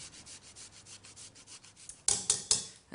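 Fresh ginger rubbed against a grater in a quick, even series of soft scraping strokes, close and quiet, followed by three sharper, louder rasping strokes near the end, with no talking.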